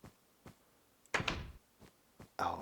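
A door opens in the video game Story of Curious: a few soft knocks, then a heavier thunk-and-creak burst and a second sharp opening sound at the end, fairly close and alone without talk.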